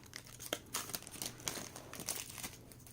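Foil wrapper of a trading card booster pack being torn open, a run of crinkling, crackling bursts at irregular intervals, close but faint, with no talking.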